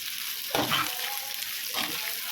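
Onions sauté in a pan as tamarind goes in for a spicy onion chutney, a steady close sizzle broken by two scraping stirs of a spatula; no talking.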